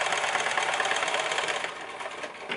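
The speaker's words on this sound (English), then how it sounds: "we're just going to zigzag these pieces together" A sewing machine runs steadily through a wide zigzag stitch, joining fabric pieces for a fabric box, its fast mechanical whir continuous and close with no voices.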